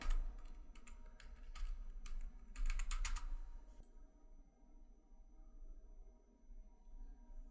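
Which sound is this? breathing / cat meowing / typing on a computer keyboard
typing on a computer keyboard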